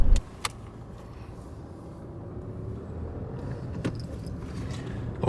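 A car drives along a local road, heard from inside as a steady, low rumble of engine and tyres, with a couple of sharp clicks or knocks near the start and end.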